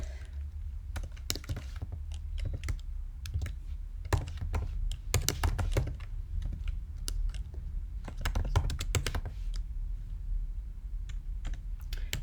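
Keys clatter on a computer keyboard as Linux terminal commands are entered, with irregular bursts of close, crisp keystrokes and brief pauses between them.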